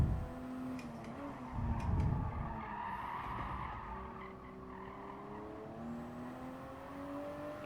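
A GR Supra RZ in Gran Turismo Sport sliding at Catalunya, a tire squeal and skid over a rising engine note, moderately loud and alone for several seconds.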